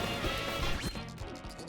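Heavy smashing and crunching as things are broken in a Donkey Kong video game, a dense burst of crash sounds followed by a few softer thumps, loud and close.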